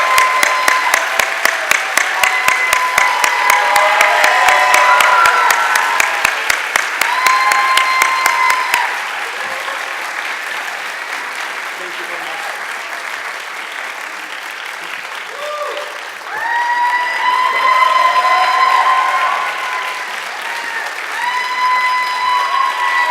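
An audience at the 2019 Golden Apple Award ceremony applauds the winner, Professor Mark Conger, as he comes to the stage: loud sustained clapping from a crowd that fades, then swells again later.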